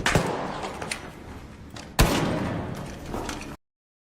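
Gunfire from a video being played back: two sharp, loud bangs about two seconds apart, each followed by a noisy, decaying tail.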